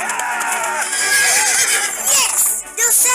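A cartoon horse lets out a loud, wavering whinny with rising and falling pitch that runs for several seconds up close, with no talking.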